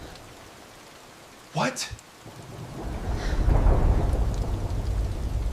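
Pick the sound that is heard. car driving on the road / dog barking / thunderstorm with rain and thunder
thunderstorm with rain and thunder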